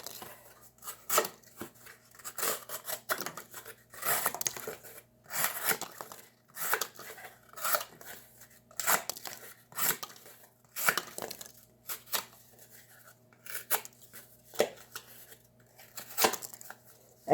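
Kershaw Highball folding knife with a D2 steel blade slicing through material, a series of crisp scraping and cutting strokes in an irregular rhythm, close and moderately loud, with no talk.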